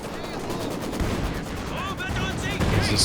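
Artillery barrage and gunfire in the Company of Heroes 2 strategy game, rapid continuous shots and dull booming impacts layered into a dense, busy battle din with occasional whistling shells.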